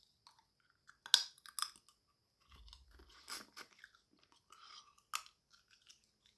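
Fresh, unsalted pistachios chewed up close, with crisp crunches and wet bites in short irregular bursts separated by quiet gaps.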